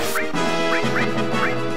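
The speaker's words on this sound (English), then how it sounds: "It's a bird! Get it!" Bird quacking in the 1997 video game Final Fantasy VII, several short rising squawk calls repeated over about two seconds on top of steady game music.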